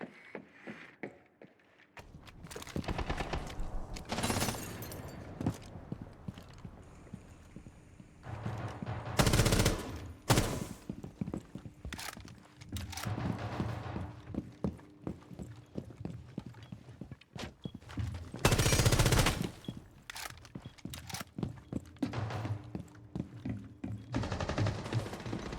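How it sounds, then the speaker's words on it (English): Repeated bursts of gunfire in the Rainbow Six video game, sharp loud volleys scattered among quieter stretches of footsteps and movement over roughly twenty-five seconds. "Why are you shooting at me?"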